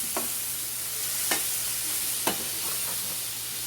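Vegetables sizzle gently over low heat in bacon fat, a soft continuous frying hiss broken by three sharp utensil scrapes or clacks against the pan, nearby and without talk.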